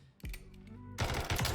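A pistol firing in the Modern Warfare 3 firing range, a single sharp shot followed by a quick burst of three or four clipped, close shots.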